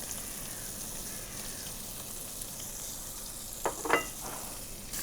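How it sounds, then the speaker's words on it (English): Sardines frying in a pan to crisp the skin, a steady soft sizzle with faint crackles, one brief louder spatter near the end, no talking. "we start with these sardines, and we want to create a nice crispiness on the skin"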